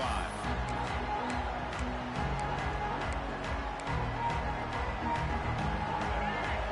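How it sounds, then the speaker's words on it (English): A dense, roaring stadium crowd at a video game college football match against Ohio State fills the scene continuously, a steady wash of cheering and chatter with a few brighter swells but no single standout voice. "Listen to the crowd energy here in the early going."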